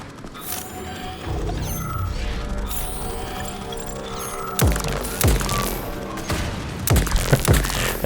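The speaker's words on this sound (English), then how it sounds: "It's kind of satisfying shooting these guys down" Gunfire in the Atomic Heart video game, with rapid mechanical clanks, ratcheting and loud sharp shots hitting robotic enemies, bursts grouped late amid whirring machinery.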